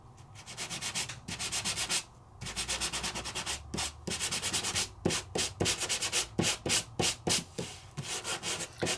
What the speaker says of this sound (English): And let's sand.